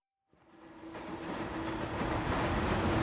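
Train station ambience in 13 Sentinels: Aegis Rim, a steady broadband wash of rail and crowd noise that swells from silence after a brief start and holds loud and continuous, with a faint sustained tone underneath.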